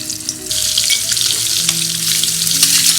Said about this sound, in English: Now I'm going to roast the egg just by giving it a few slits.